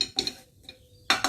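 A spoon scrapes and clinks against a pan as coriander leaves are mixed into a filling, giving a few short metallic strokes with quiet gaps between them and no talking.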